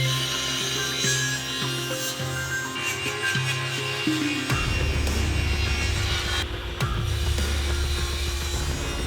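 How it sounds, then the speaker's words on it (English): A table saw rips cherry lumber to rough width in a woodworking shop, the blade's hum dropping into a louder, rougher cutting roar partway through as the board feeds through. "I'm going to take the other two faces to the table saw and I'm going to cut them to rough width"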